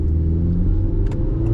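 A 2026 Honda City Hatch Touring with a CVT, running on gasoline with traction and stability control switched off, pulls away from a standstill; a close, steady low engine drone with a faint rise and no voices.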